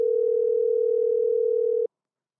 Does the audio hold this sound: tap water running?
no